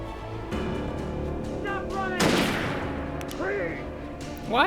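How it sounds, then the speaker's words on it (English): In the video game Alan Wake, gunfire is aimed at the player: a loud sharp shot bursts midway among background game sounds, music and character voices that speak before and after it. "Why'd they shoot at me"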